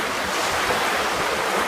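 Ocean waves rushing and hissing around a sailing boat surfing down swells at about seven knots, a continuous loud wash of water with wind noise and no talking.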